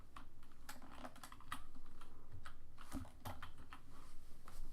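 Rapid clicks and taps of fingers typing on a computer keyboard, close and steady in irregular bursts with no voices.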